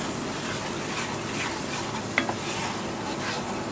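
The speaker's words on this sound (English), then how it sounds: "Our butter is melting. Our flour is cooking down." A butter and flour roux cooks in a pot, a steady close sizzle and hiss under continuous stirring, with one small utensil clink against the pot partway through.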